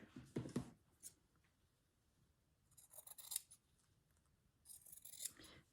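Scissors snip fabric scraps for quilt embellishments in three close, crisp bursts of cutting separated by quiet pauses, with no talking.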